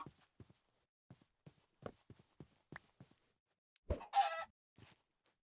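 A chicken in the Minecraft game Cobblemon gives a quick burst of clucking after a string of soft, scattered ticks and taps, faint and brief against near silence.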